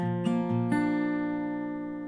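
A guitar plucks the G bass note on the third fret of the low E string a few times, then lets the last note ring out and slowly decay, close and clean.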